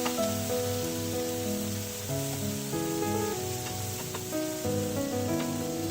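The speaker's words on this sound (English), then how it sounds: "Now lower the flame and let them roast for 2 minutes on low flame." Paneer tikka pieces roasting over a low flame on a tava, with a steady, close frying sizzle and crackle that runs the whole time, under layered tonal background music.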